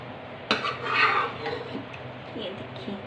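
Shinwari mutton karahi is dished out of the pot, metal utensils scraping and clinking against the pan with a sharp knock at the start and softer scrapes after, close and fairly quiet.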